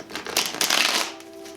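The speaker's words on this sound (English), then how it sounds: "That was not the cleanest shuffle." A deck of small tarot cards is riffle-shuffled in one messy burst, a quick flurry of papery flaps and clicks that peaks, then trails off into quiet.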